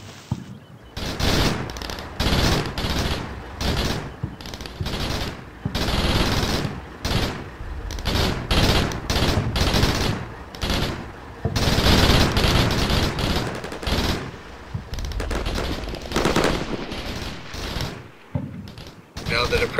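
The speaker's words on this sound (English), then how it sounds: "the MG3s are doing some plunging fire over the heads of my maneuver forces" MG3 machine guns in the Combat Mission Shock Force video game firing plunging bursts, loud rapid rattling volleys broken by short pauses, with speech mixed in over the gunfire.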